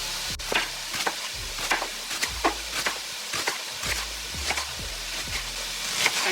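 A dull knife slices through a peeled onion on a cutting board in a home kitchen, making a steady series of close, thudding chops about twice a second, each with a short crunch.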